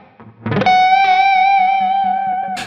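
Electric guitar rake: a scratchy sweep across muted strings leads into a sustained, distorted F sharp note that rings out with effects, and a faint pick noise follows at the end. No one speaks.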